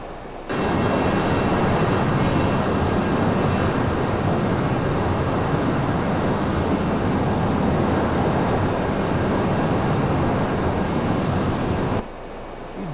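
Airliner on its takeoff roll from TNCM, a steady loud broadband engine roar and rumble holding constant for about eleven seconds, then cutting off abruptly.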